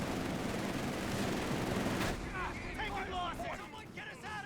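Rapid machine-gun bursts and battlefield gunfire in the Company of Heroes 3 strategy game, a dense crackle of shots that thins out, with a commentator talking over the fighting.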